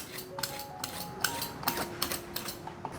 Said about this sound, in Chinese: 把红萝卜削皮，